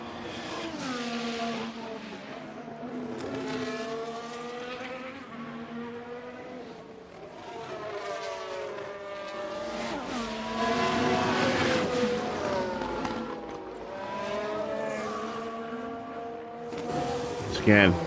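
Formula 1 engines in F1 Manager 23 at Monaco, a steady layered whine of several cars with repeated rising and falling pitch sweeps as they pass and shift, moderately loud and continuous near the pit entry.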